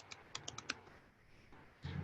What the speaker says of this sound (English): and I can simply now type on my keyboard.